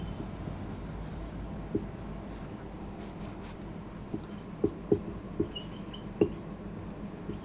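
Pen scratching across paper while notes are written during a class on carbohydrates, faint and close, with a few small taps and strokes standing out over a low room hum; no one speaks.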